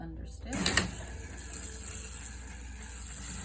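A domestic sewing machine starts up with a quick automatic back stitch, a short clattering burst, then settles into a steady, quiet mechanical whir as it understitches a skirt's facing and seam allowance.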